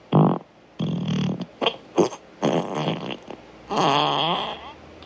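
Amazon Alexa smart speaker plays a fart sound effect, a series of loud, close, buzzy fart blasts of varying length, ending with a long wobbling one.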